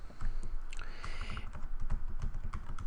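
Keys clatter steadily on a computer keyboard while a web address is typed into a WordPress link box, a close, continuous run of quick clicks with no talking.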